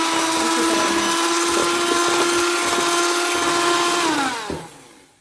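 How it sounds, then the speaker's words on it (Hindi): An electric beater whips cupcake batter for marble cupcakes with a loud, steady whirring drone that runs unbroken, then spins down and cuts off near the end. "अब मैं इसको इतना बीट करूंगी कि ये फ्लफी हो जाएगा"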